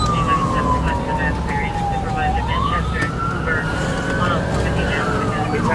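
A police car siren wails continuously during a chase, rising and falling in long slow sweeps over steady traffic and engine rumble, loud and close throughout.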